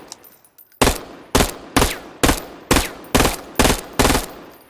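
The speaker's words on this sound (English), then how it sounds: "This mode with 2 dots, burst fire." A weapon fires in burst mode in the VR shooter VAIL VR, loud close shots coming in evenly spaced bursts, eight sharp blasts in rapid rhythm with no talk.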